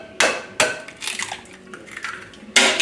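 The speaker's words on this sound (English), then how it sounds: "Now we're gonna crack some egg." Eggs being cracked against a hard edge for a Taiwanese sausage omelette in a home kitchen, several sharp clicking cracks spaced apart with faint shell and utensil clatter in between, close and fairly loud, no talking.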